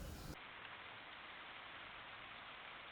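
Light rain beginning to fall in a rose garden, a steady soft hiss of drops spread evenly across the whole moment, faint and distant, with a brief louder rustle at the very start.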